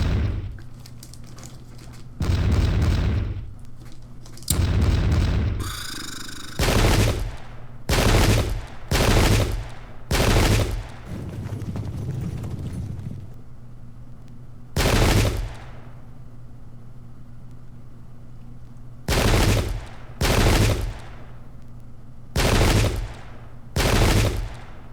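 Musket volleys crack out in the Pike and Shot Waterloo mod video game, irregular clusters of loud blasts spread over the span with pauses between groups, over a steady low battlefield hum.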